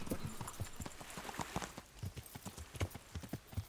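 Rapid hoofbeats of a horse galloping at speed in Kingdom Come Deliverance, a steady close clip-clop rhythm with no voices.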